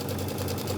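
A sewing machine stitching binding onto a quilt runs in a brief, steady mechanical whir with a fast, even rhythm, close by and moderately loud, with no voices.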